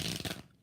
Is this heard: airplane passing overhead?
no